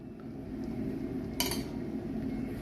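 A metal lid is set onto a cooking pot of simmering mutter paneer masala, giving a single brief clink midway over a steady kitchen rumble, with no voices.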